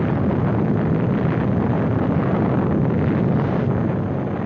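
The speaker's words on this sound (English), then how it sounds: "The blast of an atom bomb is its most important destructive agent." Atom bomb blast heard as a sustained, dense roar of broadband rumble filling the whole clip, steady and loud with no distinct separate impacts.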